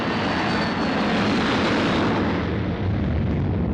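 An airplane engine roars loudly and steadily throughout, a dense broad rumble with no pauses or voices.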